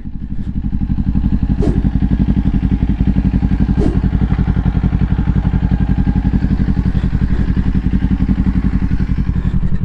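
Motorcycle running during a rider training course: a steady, loud engine drone with a fast regular pulse throughout, plus two brief sharp clicks early on.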